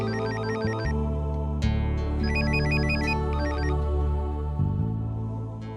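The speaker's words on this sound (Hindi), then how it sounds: "अश्विन सर का फोन इस वक्त?" A telephone ringtone plays a repeating electronic melody, loud and close, with a brief break and restart partway through.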